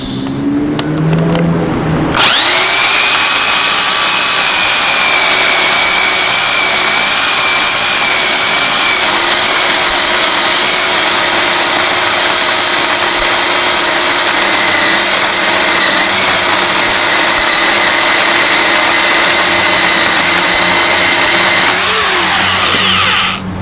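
Sun Joe electric pole chainsaw starting up abruptly after a brief rustle, then running at a steady, loud high-pitched whine for about twenty seconds before winding down at the end; no talking.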